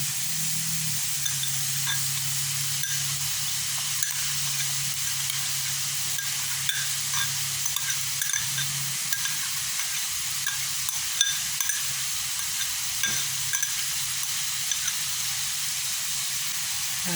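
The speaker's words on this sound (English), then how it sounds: "let the bodi cook up, fry up and cook the chicken" Chicken and bodi string beans frying in a pan give a steady, even hiss and sizzle throughout, with occasional faint clicks, and no one speaking.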